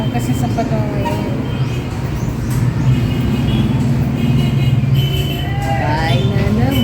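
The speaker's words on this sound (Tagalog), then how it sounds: "Tinitingnan ko yung mga sasakyan sa labas." Road traffic outside passes as a steady, loud rumble of cars and heavier vehicles, continuous throughout, with voices mixed in over it.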